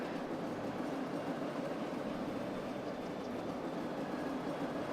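A metro train in the city-building game Cities: Skylines rolls along with a constant low, droning rumble and rail noise, fairly quiet and unbroken, with no speech.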